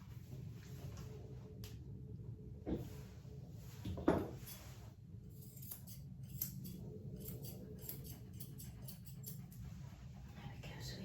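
Scissors snip at a cockerpoo's hair during grooming, with close, crisp clicks coming in scattered bursts over a low steady hum, and one louder snip standing out.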